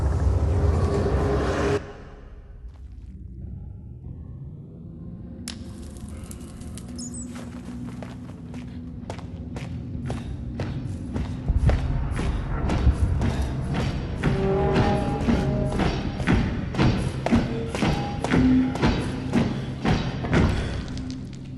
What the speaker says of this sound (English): Doesn't that sound like a portal being lit, and then someone marching, and then all of a sudden, a whole lot of someone's marching together?